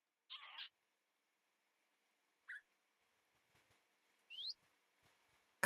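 Parrots in Minecraft give a few sparse, quiet chirps and squawks, separate short calls spaced a couple of seconds apart against near silence.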